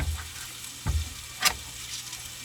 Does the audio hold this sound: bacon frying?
yes